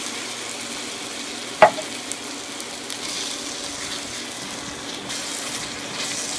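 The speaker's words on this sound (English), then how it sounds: "I've got some diced tomatoes. I'm just going to put those in there." Diced canned tomatoes tipped into a sizzling pan of turkey sausage Bolognese, a sharp splash-thud followed by a steady soft frying hiss that lingers.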